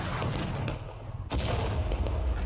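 Musket volleys crackle in War of Rights at a Dunker Church battle, dense overlapping gunfire booming near and far over a continuous low rumble, with a sharp burst midway and faint voices underneath.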